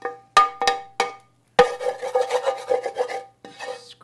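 A utensil scrapes browned taco pasta filling out of a hot pan into a big bowl, with a few quick separate scrapes followed by a longer run of steady rasping strokes, close and fairly loud.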